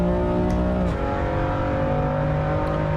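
A race car engine in Assetto Corsa Evo drones at high revs, with a sharp shift in pitch about a second in as the car changes gear, then holds a steady, loud, continuous engine note.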